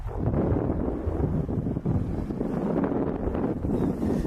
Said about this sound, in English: Just the wind keeps pushing and blowing, so I'm freezing.